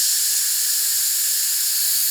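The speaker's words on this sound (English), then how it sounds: "Just gonna let the steam out." Steam venting from a pot of cooking black bean chili, a loud continuous high hiss held steadily throughout, close and alone.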